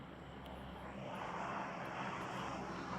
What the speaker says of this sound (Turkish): Uçakmış. Sanki aşağıdan bir ses geldi ya. Uçakmış.